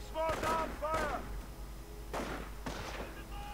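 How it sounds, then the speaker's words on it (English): Scattered rifle gunfire from a WWII strategy video game, sharp broadband cracks and thumps spaced a second or so apart at moderate distance, with a voice speaking over and between the shots. "Pioneers coming under fire from Riflemen"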